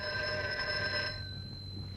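A telephone bell rings steadily for about a second and then cuts off, leaving a faint hum of the room behind it.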